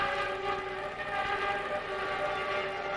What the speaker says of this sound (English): It sounds almost like the engine's gone flat